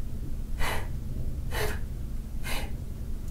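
Three sharp nasal exhalations during a tai chi movement, each a short breathy rush spaced about a second apart, close to the microphone over a low steady background hum.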